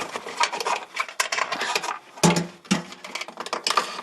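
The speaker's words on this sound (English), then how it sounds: "I'm taking the bracket off the thread" A bracket on a VW T4 van's aerial being turned off its thread, giving close, dry scraping and ratcheting clicks in uneven bursts with a couple of sharper knocks midway.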